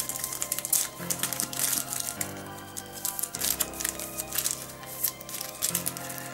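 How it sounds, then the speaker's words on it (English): Cards from the Hunter's Guild board game being shuffled by hand at close range, a run of repeated crisp riffling and flicking bursts with soft crinkly patter between them, alone without talk. "So basically it is shuffling these"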